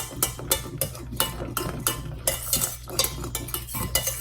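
A spoon scrapes and clinks steadily around a pot as vanilla is stirred into homemade fudgesicle mixture, with regular rhythmic strokes close up and no talking.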